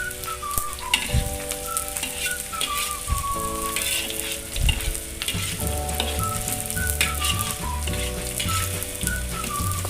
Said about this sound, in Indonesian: Kita tumis bawang merah, bawang putih beserta jahe tadi